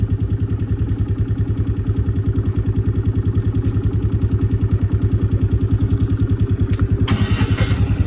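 A motorcycle engine runs at a steady close idle, a loud rhythmic thumping putter that holds throughout, with a brief hiss of noise near the end.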